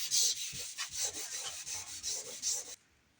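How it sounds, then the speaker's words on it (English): Rapid back-and-forth rubbing of sandpaper on converted metal, a bright gritty scratching in quick uneven strokes, close and fairly soft, stopping abruptly near the end. "She's going to get sanded a lot more silver."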